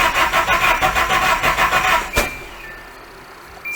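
Engine of a Nissan Hardbody truck cranks in a fast rhythmic churn, spits and sputters unevenly, then cuts out with a sharp pop into near quiet, loud and close.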